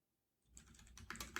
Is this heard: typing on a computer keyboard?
yes